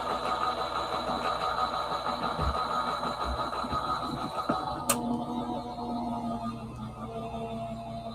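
A paper card cutting machine runs steadily throughout, a continuous mechanical whir with a brief sharp click partway through, close and fairly loud.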